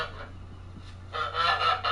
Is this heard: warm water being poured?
no